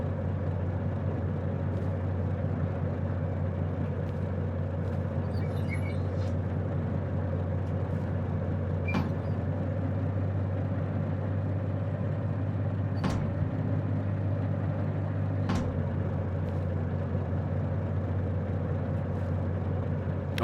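A train braking in a video game: a steady low rumbling drone with a constant hum throughout, punctuated by a few sharp metallic clicks and knocks, moderately loud and unbroken, with no talk over it.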